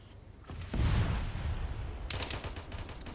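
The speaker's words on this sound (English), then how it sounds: "Rocket going off." In Arma 3, a rocket launcher fires with a sudden heavy whoosh and boom, followed by a rumbling tail and sharper crackling after a couple of seconds.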